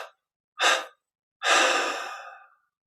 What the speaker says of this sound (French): Expirons 3 fois